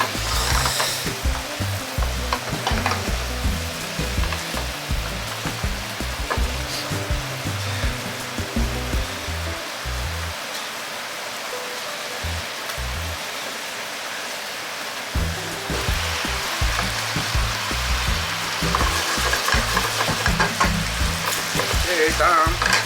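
Pork and pork-ball sauce sizzle and bubble hard in a pan over high flame as it boils down, a steady loud frying hiss with a brief quieter lull midway, no talking.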